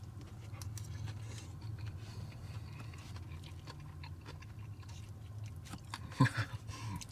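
Turkey with bulgogi sauce is chewed close up in soft, quiet, repeated mouth sounds over a low background hum, with a sharper clack or bite near the end.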